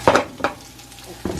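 Potatoes and onions sizzle in a frying pan, with brief stirring scrapes and clinks of utensil against the pan, close and fairly loud, no talking.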